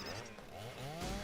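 A chainsaw-wielding enemy in the Silent Hill arcade shooter roars nearby, its buzzing engine drone running continuously and loudly through a dense mix of game effects.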